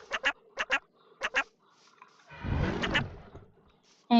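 Ducks in modded Minecraft let out quacks in three quick paired bursts, then a longer rough, honking call and one more sharp quack, loud and close with short silences between.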